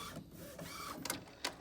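Epson WF3720 inkjet printer with its ink cartridge carriage shuttling back and forth, a faint whirring motor hum with a couple of sharp mechanical clicks near the end, close and quiet.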